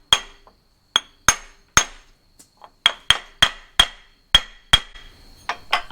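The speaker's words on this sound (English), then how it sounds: "now that you have the bit hammered into the broken screw or bolt" A hammer drives a torque bit into a broken bolt with a series of sharp metallic strikes. There are about a dozen hits, unevenly spaced and ringing briefly, close and loud.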